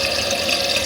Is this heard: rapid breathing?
no